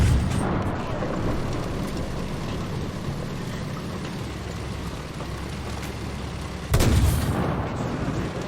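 Tank cannon fire with high-explosive shells in War Thunder, low-tier Swedish tanks on a dev server: dense rumbling battle noise throughout, with one loud, sharp boom near the end standing out above the steady din.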